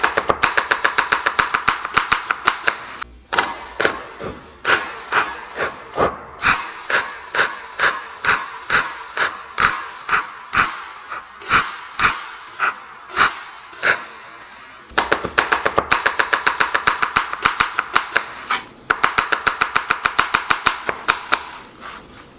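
A knife dices vegetables on a cutting board in fast, steady runs of sharp chops, close and loud, with a short pause midway before a rapid burst of chopping resumes, no talk.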